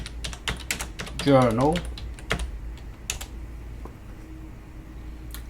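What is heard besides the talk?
typing on a computer keyboard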